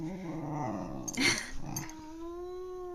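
A pet dog growls in short rumbling bursts up close, rising into a louder snarl midway, then settles into a steady low whine-like tone; no one speaks.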